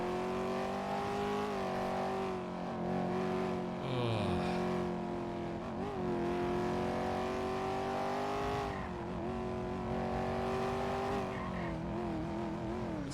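A car in GTA V NoPixel roleplay drives hard, its engine droning loud and steady with rising and falling revs and a brief tire squeal along the way, close and continuous with no talking.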